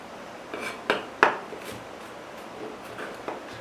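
Knife slicing a garlic clove on a cutting board, a few quiet scattered taps and clicks at close range, with faint background hiss.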